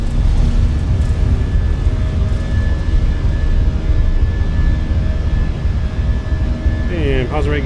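An airliner's engines roar steadily at high power during takeoff in Microsoft Flight Simulator 2024, a loud continuous drone with a voice speaking over it near the end.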